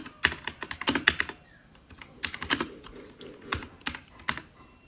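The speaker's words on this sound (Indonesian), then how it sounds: "Kita bisa ketikkan snort min v" Quick bursts of keystrokes on a computer keyboard as a Snort command is entered, close and crisp, in short irregular clusters with pauses between them.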